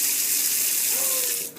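Water runs from a faucet into an outdoor kitchen sink beside a griddle and side burners, a steady close rushing splash that fades slightly at the very end.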